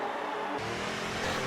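Engine of an SF1 race car spinning donuts in a Brazil Grand Prix racing game, a steady loud motor drone that deepens and roughens into a rumbling growl halfway through, continuous with no pauses.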